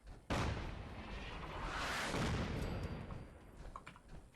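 Heavy artillery barrage in the video game Fallout 4: a sudden loud blast followed by a long rolling roar of overlapping explosions that gradually fades, with no talking.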